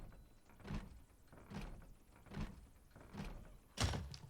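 A door in a zombie survival video game being worked, heard as a run of dull thuds and knocks spaced about a second apart, ending in a heavier thump.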